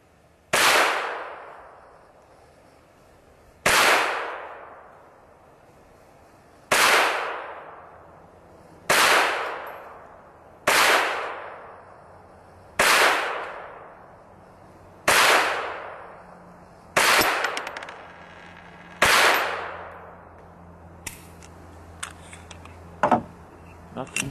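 A CCI Quiet .22 semi-auto rifle fires nine evenly spaced, subdued cracks at about three-second intervals, each trailing off in a short ring, followed by quieter clicks of action handling.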